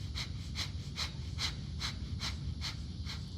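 Breathing from a yoga practitioner holding a revolved twist in a group session: quick, evenly spaced breath bursts, about eight in three seconds, close by over a low steady room hum.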